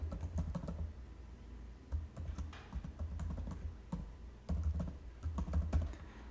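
Steady bursts of keystrokes on a computer keyboard while an email ID is entered into a login form, close and fairly quiet, with brief pauses between runs of clicks and no talking.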